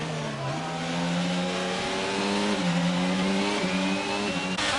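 A racing car engine in a video game race drones loud and close, revving with stepping pitch shifts as it accelerates through gears, other cars faintly behind.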